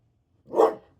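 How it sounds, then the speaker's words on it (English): A dog named Penny gives a single loud bark outdoors at another dog passing the house, one short burst with nothing else around it. "So my dog really barks at her now."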